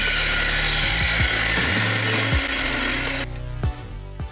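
A power saw cuts through a wooden piece being split for a clamping system, its motor whine holding steady, then dropping in pitch and cutting out near the end with a few short knocks.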